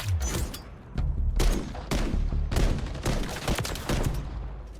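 KV Inhibitor semi-automatic rifle in Modern Warfare 3 gameplay, loud single shots fired in a steady rapid series with booming echoes, close and dense throughout.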